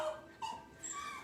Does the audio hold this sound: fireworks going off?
no